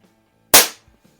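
A single sharp, loud report from a Barra Schofield 7-inch chrome CO2 BB revolver, a crisp pop that cuts off quickly, followed by a faint clink, with no voices.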